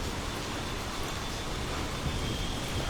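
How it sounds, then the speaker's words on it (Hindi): Heavy downpour mixed with falling hail during a May storm in Jammu and Kashmir, a dense, steady hiss of rain that fills the whole clip with no pauses and no voices. "मूसलाधार बारिश इस समय हो रही है"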